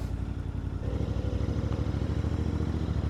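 A Royal Enfield Interceptor 650 motorcycle engine thrums steadily as it rides along back lanes, a low, pulsing exhaust beat that stays close and even throughout.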